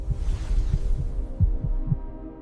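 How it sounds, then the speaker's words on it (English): A deep, throbbing heartbeat pulses in a slow, repeated rhythm, loud and close, under a low sustained hum as a dramatic effect for the first life on Earth. "a spark, the first heartbeat of the planet"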